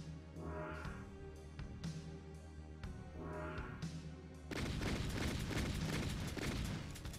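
Gunfire and explosions from the video game Doom RL played on Nightmare difficulty: a few booming shots with ringing tails over a steady music bed, then a dense, sustained loud burst of rapid firing near the end.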